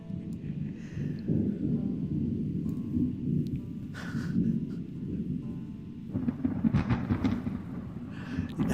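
Rolling thunder rumbles low and long, swelling and fading in waves over a faint wash of rain.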